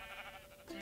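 Sheep bleat in the blocky CubeCraft Minecraft game, a short faint baa rising near the end over a soft background hum.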